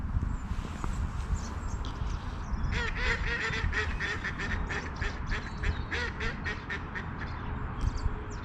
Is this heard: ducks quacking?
yes